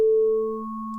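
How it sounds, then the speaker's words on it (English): A synthesizer sine wave tone in Bitwig, a pure steady hum that holds for about a second, with a slightly brighter upper component fading away midway; alone, no voices. "right now we have just a good old sine wave"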